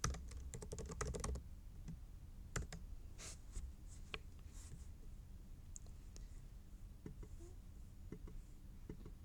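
Rapid bursts of clicking keystrokes on a computer keyboard, dense at first and then scattered, with faint background hiss.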